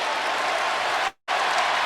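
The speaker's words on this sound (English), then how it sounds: "allow this great big crowd to celebrate" A big arena crowd roars and applauds after a Kentucky basketball win, a dense, loud wash of cheering that cuts out briefly near the end before resuming.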